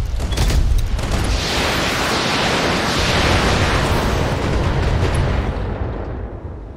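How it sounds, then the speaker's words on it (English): A mech in the BattleTech video game fires all of its weapons at once, producing a loud, broad roaring blast that holds steady for several seconds and then trails off, with no voices. "Firing all weapons."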